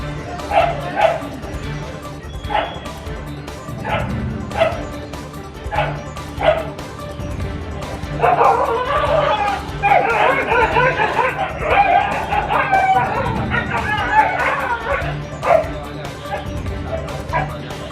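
Stray dogs on the street barking and yipping: repeated sharp barks spaced out over the scene, then a denser stretch of overlapping yelps and whimpers, with a voice talking beneath.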